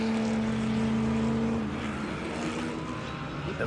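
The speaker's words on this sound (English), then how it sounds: "But cars will now be going out onto the high banking" Classic race cars head onto the high banking at Daytona International Speedway for an HSR Classic Daytona race, with a steady loud engine drone that holds a strong tone before breaking into rougher, fluctuating roar.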